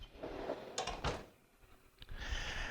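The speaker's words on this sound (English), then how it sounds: "So I must close the doors" Sliding enclosure doors of a Haas CNC machine rolling shut, a few rumbling slides and a sharp latch clack near the end, close and moderately loud with shop hum behind.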